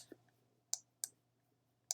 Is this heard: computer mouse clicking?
yes